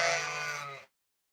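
Lambs on a small farm give a single loud, close bleat lasting under a second, then silence.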